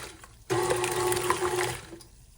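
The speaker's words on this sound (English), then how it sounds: "Now you can hear the buttermilk separating and sloshing around in the bowl." Buttermilk separating from butter and sloshing inside a mixing bowl during cheddar and chive scone prep, a steady churning, splashing wash that starts abruptly and runs for about a second and a half before easing off.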